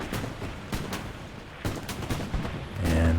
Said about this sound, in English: gets hit by the PTRSD rifle